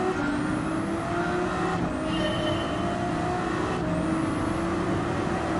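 A Ferrari race car in Gran Turismo 7 at the Nurburgring 24 Hours roars steadily at high revs, its engine note climbing through gears with brief shift dips, loud and close with no talk.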